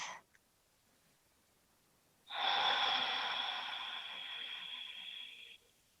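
A slow, deep breath drawn in during a gentle yoga flow, close and soft, with a brief sniff at the start, then a long airy inhale that holds steady for about three seconds.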